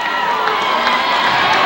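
A basketball arena crowd roars and cheers loudly after a foul, a dense, continuous wash of shouting voices with no single voice standing out.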